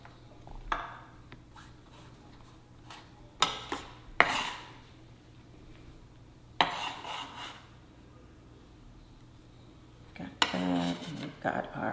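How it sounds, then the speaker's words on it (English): Minced garlic and chopped purple onion are tossed into a bowl, giving a few scattered clinks and scrapes of utensils against dishware with quiet pauses between them. "So I'm just gonna go ahead and throw this all together in my bowl"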